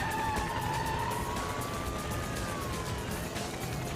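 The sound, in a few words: police car chasing a suspect's car through traffic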